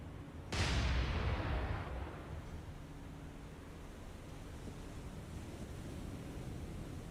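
A single deep, booming naval gun salvo from a warship in the naval combat game War On The Sea, hitting hard and decaying over a couple of seconds into a steady wind-and-sea wash.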